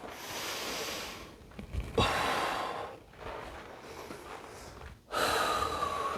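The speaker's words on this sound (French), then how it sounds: "Coach, tu respires trop fort." Heavy breathing during a workout, several loud close gasping and snorting breaths in an uneven rhythm, with sharp inhales separated by brief pauses.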